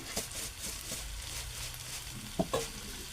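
Bitter gourd stir-fried in a pan gives a continuous sizzle with scraping stirs and a couple of sharp clinks near the end, no speech.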